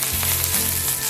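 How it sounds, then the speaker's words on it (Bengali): Garlic cloves and whole green chillies sizzle loudly in hot oil in a pan, a dense continuous crackling hiss up close, with no voices. "তেল গরম হয়ে গেলে এর মধ্যে প্রথমে দিয়ে দিচ্ছি 12 থেকে 14 কোয়া রসুন।"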